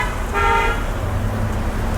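A single car horn toots briefly over a steady rumble of dense road traffic on a busy street.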